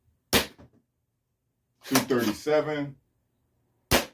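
NERF Bamboo 2.0 darts fired from a Gen 3 Nerf blaster: two sharp, close shots about 3.5 seconds apart, with a brief voice speaking between them.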